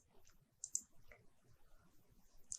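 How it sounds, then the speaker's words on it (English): A single mouse click on an OK button in engineering software, a faint sharp tick with another soft click near the end against quiet background noise. "Click on OK."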